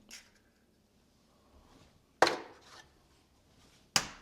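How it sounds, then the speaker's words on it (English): Eggs cracked against a bowl in a kitchen: two sharp, distinct cracks a couple of seconds apart, close and crisp over near silence, with faint handling sounds before them. "So we're gonna crack the eggs inside of the bowl."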